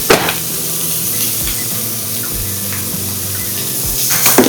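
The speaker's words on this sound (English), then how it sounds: "We're cooking the bacon so that it stiffens up, and then it kind of forms around the shrimp" Bacon-wrapped shrimp searing in a hot pan, a loud, continuous close sizzle and spatter of fat with no talking.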